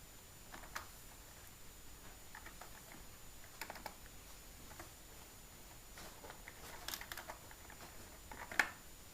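Faint, sparse keystrokes on a computer keyboard as a name is entered into an online university admission form, quiet clicks scattered across a hushed room with one sharper tap near the end.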